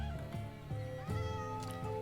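A black cat in the video game Minecraft meows several times in a row, short bright mews spaced about half a second apart, clear and close.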